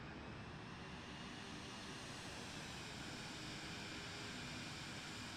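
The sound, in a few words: Vision Jet aircraft engine in video game Microsoft Flight Simulator 2020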